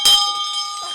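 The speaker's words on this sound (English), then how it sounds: "You ring the bell for close the devotion this morning." A single bell struck once to close a morning devotion on a radio program, a bright clear ring with a sharp attack and a sustained tonal decay, close and alone.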